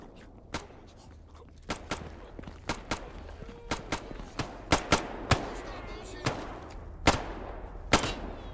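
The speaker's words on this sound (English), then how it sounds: "You guys shooting?" Scattered single shots from the video game STALKER GAMMA, sharp and fairly distant, arriving irregularly about once every half second to second over a quiet low background with no talking.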